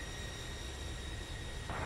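An airliner in the X-Plane 11 flight simulator rolls for takeoff from runway 28, a steady broad jet roar with a constant whine, moderately loud and unbroken, and a brighter surge of noise near the end.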